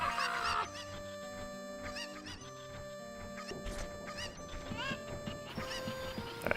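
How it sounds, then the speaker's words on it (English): Bird calls in The Legend of Zelda: Ocarina of Time sound as short, honking, cluck-like game chirps in repeated bursts over a quiet, tonal music bed, with no talking. "this is the last part of getting the last of those birds"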